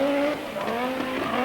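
Kankkunen driving the four-wheel-drive Audi Quattro rally car with its turbo five-cylinder engine: a steady, close engine drone with a sustained tonal whine and a brief gear shift, tires scrubbing underneath.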